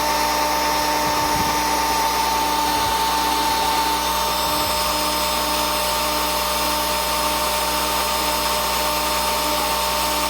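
A drill whines steadily while buffing a brass tube mod, giving a constant high-pitched motor drone with a faint scuffing grind underneath, close and unbroken throughout.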